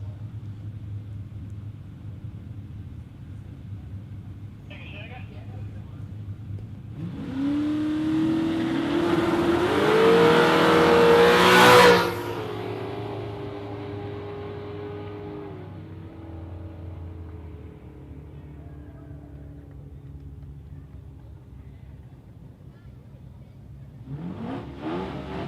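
Two drag cars, a wagon and a VK, launch down the Warwick Dragway strip. A low idling rumble swells into a loud, roaring surge of revving engines that peaks and fades into the distance, with engine noise rising again near the end.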